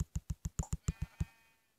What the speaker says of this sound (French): il y a là le mouton.